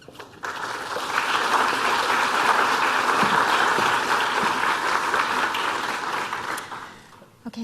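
An audience at a C-SPAN artificial intelligence lecture applauds to welcome Dr. Jennifer Neville: a dense, steady burst of clapping from a crowd that lasts about six seconds before fading out.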